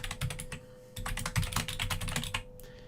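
A name is typed on a computer keyboard in quick bursts of close, crisp key clicks, with a short pause near half a second before the typing resumes.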